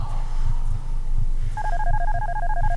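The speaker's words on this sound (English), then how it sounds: "Someone's calling my cell phone." A cell phone in the video game Darkness Within starts ringing with a warbling electronic trill that repeats steadily over a low droning, pulsing game background.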